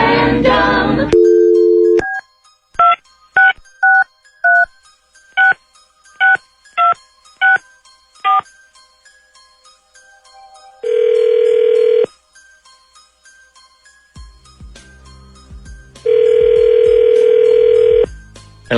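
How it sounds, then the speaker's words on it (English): Phone call being placed: a dial tone, then a quick run of touch-tone keypad beeps, followed by two long ringback tones separated by a pause, clear and close with no talking. "let's call him, and then we'll see if he answers real quick"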